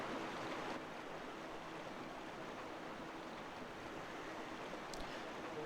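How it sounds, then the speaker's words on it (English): Water rushes steadily beneath the Lakebed Temple in Twilight Princess, a continuous broad hiss of flowing current, soft and even, with a brief sharp click near the end. "all that water flowing through underneath us"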